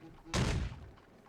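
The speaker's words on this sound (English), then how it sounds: "I heard that loud thud, like something falling on the floor." A single loud, heavy thud of something falling onto a floor in The Great Ace Attorney Chronicles, a sudden broad impact with a short decaying tail, close and alone.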